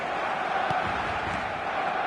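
A football video game's stadium crowd on match day roars as a steady, distant wash of cheering and chanting, with faint commentary-like voice underneath.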